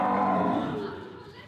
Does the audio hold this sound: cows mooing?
yes